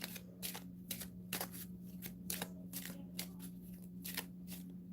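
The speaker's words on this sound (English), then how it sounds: "that's a nice enough easy shuffle" A deck of playing cards shuffled at a tabletop game session, riffling in quick repeated bursts about every half second over a steady low electrical hum, close and clear with no voices.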